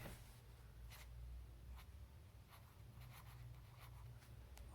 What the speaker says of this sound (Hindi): अभी हम नीचे लिखते हैं